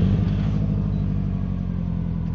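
A 2008 Subaru Impreza WRX STI idling after a keyless push-button start, a steady loud low rumble from the turbocharged flat-four that holds even throughout, heard close with no voices.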